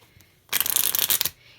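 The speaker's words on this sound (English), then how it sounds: "We're going to be shuffling these two piles together to make a complete jumble" Two piles of playing cards riffled together in one quick continuous burst of crisp flutter, close and loud, with quiet before and after.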